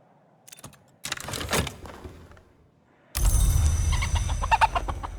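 Chicken clucking in the video game Book of Hours, a few short clucks early on, then a louder stretch of busy clucking and fluttery fowl noise near the end, with no talking.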